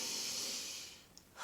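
A long, deep breath drawn as a calming breathing exercise: a steady, airy exhale that fades out, then a sharp inhale at the end, close and fairly quiet, with no talking.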